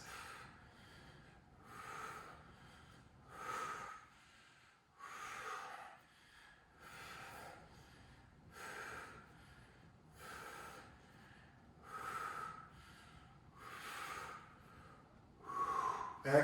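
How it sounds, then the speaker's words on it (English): Heavy, deep breathing after a core workout, slow repeated inhales and exhales roughly every one and a half seconds, close and soft, with no talk over it. "Big deep breaths"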